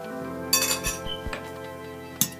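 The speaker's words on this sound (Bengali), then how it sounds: "একটা মিষ্টি আপনাদেরকে কেটে দেখিয়ে দিচ্ছি কালোজাম মিষ্টির ভিতরটা কীরকম লাল হয়েছে" A knife clinks against a plate while a soft kalojam sweet is cut in half. Several sharp, close ringing taps come in quick succession, then one last clink after a short pause, with no talk over them.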